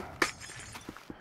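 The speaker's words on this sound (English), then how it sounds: "is I'm going to break this glass out." Glass pane smashed out in a block-building mining video game: one sharp shattering burst early on, followed by a few small scattered clinks, quiet and close with no talking.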